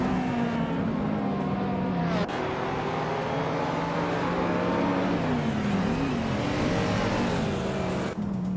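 Race cars in a racing video game battle wheel to wheel, engines roaring loudly and continuously with rising and falling revs as they jostle for position.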